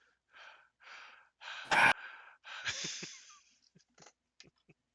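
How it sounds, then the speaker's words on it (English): Master Chief's helmeted breathing while drifting through the void of space in a Halo game: several slow, close inhale-exhale cycles with a sharp gasp in the middle, then quieter shallow breaths and small clicks as it fades. "all I can hear is my breathing"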